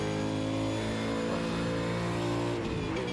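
A V8 supercar engine revs hard in a racing video game at Spa, driven with a stick shifter, a continuous loud mid-pitched drone with rising and falling revs across the whole stretch.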